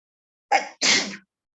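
A single human sneeze, close and clear, with a short sharp intake followed by a longer breathy burst against silence.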